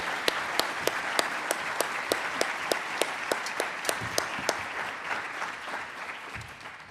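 An audience applauds to welcome a speaker at a child sexual abuse conference, steady dense clapping from a crowd that carries on evenly throughout, with a few sharper individual claps standing out near the front.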